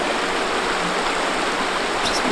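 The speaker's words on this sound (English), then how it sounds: "this is the Buckhannon River" The Buckhannon River in West Virginia rushes over rapids in a steady, loud, broadband roar of flowing water, close by and continuous throughout with no talking.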